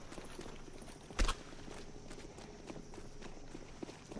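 Soft, quick footsteps in a Counter-Strike match between college teams, a faint patter of steps under low game ambience with one sharper thud partway through.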